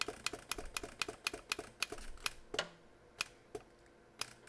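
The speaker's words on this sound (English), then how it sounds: "This is stainless steel that I'm cutting" Sharp metallic taps from a hand engraving chisel with a heavy striker head cutting stainless steel, a quick steady ticking run of close strikes that slows to a few spaced hits near the end, faint and without talk.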